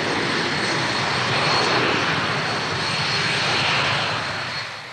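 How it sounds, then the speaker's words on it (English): Lockheed S-3 Viking carrier-borne anti-submarine aircraft flying a landing circuit at Boscombe Down, a steady broadband engine roar that swells slightly mid-pass and then fades toward the end, with no voices. "The Viking is a carrier-borne anti-submarine aircraft, which has no equivalent in the British forces."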